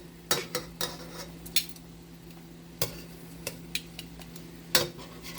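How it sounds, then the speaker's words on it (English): Meatballs are turned over with a utensil in a frying pan on a medium flame, giving several sharp clinks and scrapes against the pan over a low, steady sizzle. "so I'm just flipping them over"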